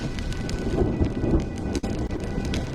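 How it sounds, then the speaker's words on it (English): Heavy rain pours in the Penacony setting of the video game Honkai Star Rail, a dense steady wash with low rolling thunder rumbling underneath and a sharp crack near the middle. "When will this rain ever stop?"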